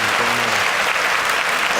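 A short burst of loud, dense applause from a group, continuous through the brief moment with a faint voice briefly underneath at the start.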